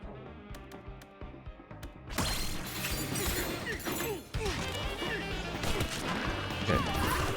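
Objects are smashed in a Donkey Kong video game on DK Island, with a dense run of crunching crashes and impacts over game music, starting after a quieter musical opening.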